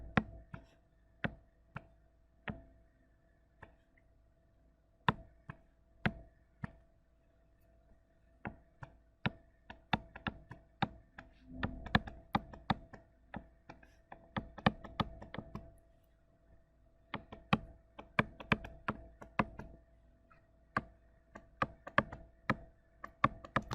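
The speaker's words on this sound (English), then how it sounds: "I'm just going to write this down." Chalk or marker writing on a lecture board during a multivariate calculus class: scattered sharp taps and scratchy strokes in irregular bursts, faint and close, with no talking.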